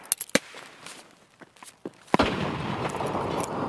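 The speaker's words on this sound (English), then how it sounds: "That's a bad grenade." A grenade goes off in Escape from Tarkov: a sharp, distant blast followed by a lingering rumble and debris noise, preceded by a few faint pops and footsteps, no talk over it.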